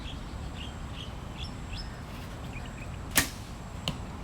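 An arrow from a 61-lb Assyrian composite bow strikes the target with one sharp thud, and a second fainter knock follows, heard outdoors over quiet background bird chirps.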